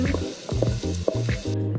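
Pieces of guanciale frying in a pan give a steady close crackling sizzle, broken by short stirring and scraping sounds.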